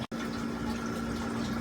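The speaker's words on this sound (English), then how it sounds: "just doing a water change while we're looking at the guppy tank" Water pouring and splashing steadily into a guppy tank as it nears overflowing during an aquarium water change, a close continuous gush with a steady hum behind it.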